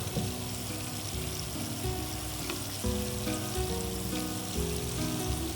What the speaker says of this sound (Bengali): আমি এখান থেকে 1 চামচ তেল দিয়ে দিলাম